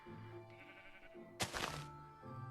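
A Minecraft sheep bleats in a quiet game scene, giving a few short, wavering bleats with a brief soft thunk in the middle, all faint.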